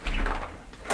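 A door with a sticking handle swings shut, giving a low thud followed by a faint latch click near the end, heard up close with no talk.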